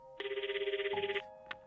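A phone rings during a call in the video game Christmas Tina, a faint warbling electronic ring pulsing rapidly for about a second, followed by a brief short tone.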